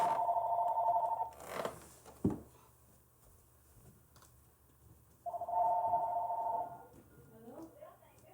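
A telephone rings in two bursts of steady electronic trilling, the first at the start and the second after a quiet gap, with a sharp knock and faint rustling between them.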